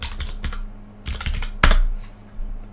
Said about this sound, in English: So I will type it in the chat.